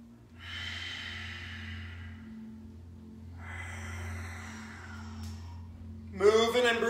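Deep, slow breathing during a yoga workout: two long drawn breaths through the nose, close and steady over a low background hum, ending with a brief burst of voice.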